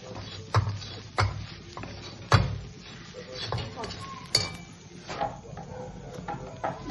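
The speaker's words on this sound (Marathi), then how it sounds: "ड्रायफ्रूट छान भाजतंय" Dry fruits and grated coconut roast in a pan for modak filling, stirred with a spoon that knocks and clinks rhythmically against the metal over a soft sizzle, close and moderately loud.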